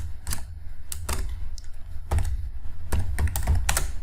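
Someone types C code on a computer keyboard, a series of close, crisp key clacks in irregular clusters with short pauses between bursts.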